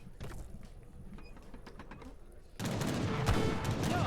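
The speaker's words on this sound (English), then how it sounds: "Again, heavy cannons firing on top of that." Heavy cannons firing in a large Age of Empires III battle, a dense barrage of overlapping booms and crackling gunfire that suddenly grows louder and fuller partway through, with the earlier stretch sparser and quieter.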